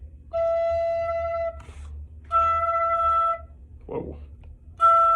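Simple wind instrument, such as a tin whistle, sounding the note E in several sustained tones of about a second each, separated by brief pauses, with a short breathy noise between phrases; close and fairly clear.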